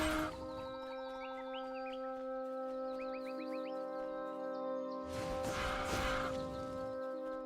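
Game birds clucking and squawking in a fantasy action RPG, Titan Quest, in repeated short bursts over a steady sustained musical tone, with a louder burst of rustling noise near the end.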